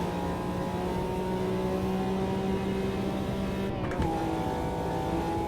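A McLaren F1 V12 LM engine howls at high speed in the Automobilista 2 racing game, with a steady loud drone and a brief gear-change dip near the end, and no voices over it.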